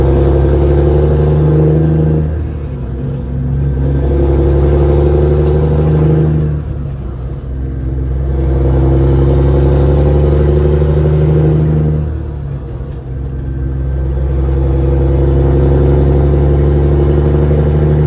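A truck engine drones steadily while driving, loud and close, with a deep sustained rumble that swells and eases in long waves. A higher whine rises and falls above it. No voices are heard.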